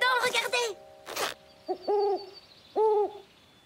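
An owl in a children's cartoon hoots twice in clear, evenly spaced calls, following a short burst of voices.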